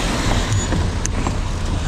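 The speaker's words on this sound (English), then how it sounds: "I gotta wait for traffic" Steady road traffic rumbles past a motorcycle waiting at a junction, a close low drone of passing car and truck engines with brief higher hisses.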